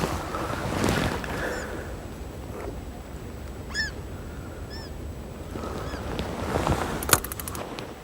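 Wind gusting by the water on a chilly fishing bank, a low blustery rumble with lapping water, occasional distant bird calls and a sharp knock near the end.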